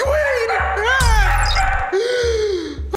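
A dog named Queenie barks repeatedly behind a wall, mixing loud barks with whiny, howling yips at fairly close range throughout.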